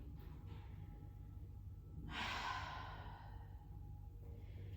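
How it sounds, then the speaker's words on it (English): A single deep breath in and out during a calm yoga session, a soft airy exhale rising then fading, faint over low background hum. "Take a nice deep inhalation and exhale it out"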